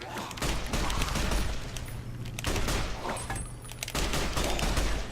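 Gunfire in Fallout: New Vegas crackles in rapid bursts, a dense volley of shots that breaks off and resumes in several loud clusters.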